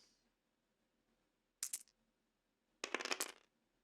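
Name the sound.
dice being rolled in a tabletop wargame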